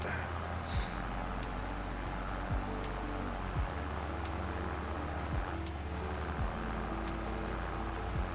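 Small, cheap tractor in Farming Simulator 2025 labouring across a field, its engine a steady low drone that runs continuously at a constant level, with a few faint thumps along the way.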